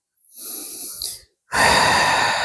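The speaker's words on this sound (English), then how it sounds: "Nice long exhalations." Two long, close breaths during a full-moon yoga salutation practice: a soft airy breath, then after a short pause a louder, rushing exhalation, heard alone.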